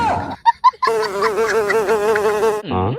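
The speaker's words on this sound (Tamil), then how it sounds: "இந்த கருவண்டு வேற இப்பதான் கடுப்பேத்துது." A black beetle buzzes loudly and close in an indoor room with a window, its droning hum wavering steadily for about two seconds, preceded by a few short chirping bursts and followed by a brief sliding tone.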